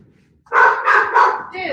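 A dog gives a short string of barks or yips, two or three quick loud calls run together close by, rising out of near silence.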